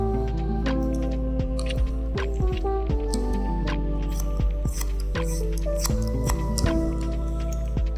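Scissors snip hair during a trim in a low fade haircut with a V-shape design. Crisp, fairly regular cuts come close by over a steady background hum. No one speaks.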